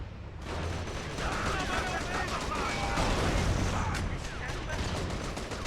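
A vehicle-mounted machine gun in the video game The Outfit fires sustained rapid bursts. The dense, loud chatter runs almost nonstop under engine and battle noise.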